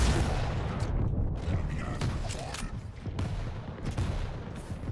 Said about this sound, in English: Nail gun is a nice choice.